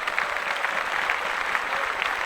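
Applause at a podcast taping, a brief burst of steady, dense clapping from a small group, fairly close and continuous with no talking.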